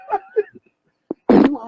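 A short burst of broken, sputtering fart noise ends in a louder blurt, close and sharp; a voice makes scattered vocal sounds just before, and the noise may be a vocal imitation.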